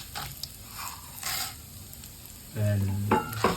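Chana dal is tempered in hot sesame oil alongside urad dal, producing a soft intermittent sizzle and stirring that swells into a louder burst near the end.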